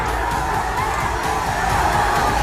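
Dense crowd shouting and cheering outside a gurudwara during a Hola Mohalla procession in Nanded, a continuous loud roar of many voices with no pauses.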